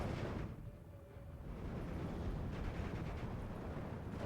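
A 280mm off-map artillery strike in the WWII strategy game Steel Division 2 rumbles as a heavy, sustained roar of explosions, with a brief lull before the blasts swell again and continue steadily.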